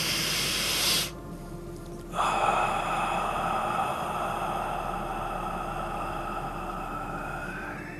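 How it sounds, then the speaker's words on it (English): A single deep breath drawn in through the nose, then a long, even exhale through the mouth, soft and close with a hiss of air. "Let's take 3 nice deep breaths in through our nose, exhaling through our mouth"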